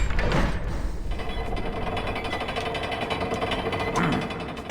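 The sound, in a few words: hammer smashing in video game LEGO The Hobbit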